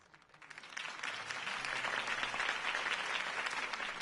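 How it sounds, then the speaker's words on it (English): Crowd applause in a Batman video game on PS4 swells up from quiet and holds steady, a broad wash of many people clapping at a moderate distance. "could have heard that applause"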